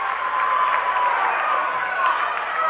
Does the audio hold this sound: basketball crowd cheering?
yes